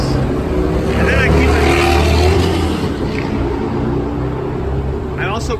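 A portable gas generator runs inside a van, giving a steady, loud low engine drone with a buzzing hum that holds throughout, with faint voices beneath it.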